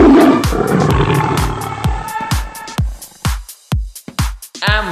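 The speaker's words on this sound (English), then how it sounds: "L brings a lion." A lion roars in a deep, powerful series of bursts, loud and close, with repeated booming thumps that fade into a rhythmic pattern; no voices are heard.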